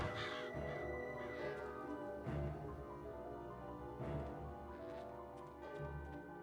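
Crows caw in the Psychonauts video game, a few harsh calls rising over a steady, dense game soundtrack that keeps playing throughout.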